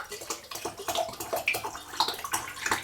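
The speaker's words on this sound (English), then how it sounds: "And then I top it off with my filtered rainwater" Filtered rainwater is poured over wheat berries soaking with a little vinegar, giving a close, uneven trickling and splashing with gurgling bursts that come and go in quick pulses.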